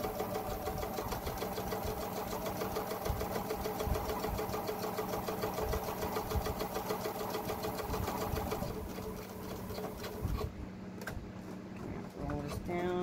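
A sewing machine stitching straight across a fabric face mask, a fast, steady mechanical rattle that runs nearly continuously and changes slightly near the end, with a voice faintly audible at times.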